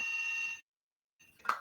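A landline telephone in a house rings with an electronic trill, a short burst, a pause of silence, then the start of another ring, near and clear.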